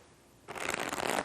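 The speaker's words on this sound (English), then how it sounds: "there's the ever popular riffle shuffle, where you cut the deck into 2 groups," A riffle shuffle of a deck of playing cards: brief quiet handling, then a dense, crisp flutter of cards interleaving for under a second, close and fairly loud.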